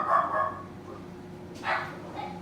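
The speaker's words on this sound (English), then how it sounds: "I'm not sure what my dog's barking at there" Pet dog barking indoors, a couple of short muffled barks early and another sharp bark later, faint and somewhat distant, with no talking.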